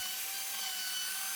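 An end grain wooden cutting board held in a jig with hot glue is flattened with simple tools, giving a steady, even, continuous abrasive machining noise at constant loudness with no pauses.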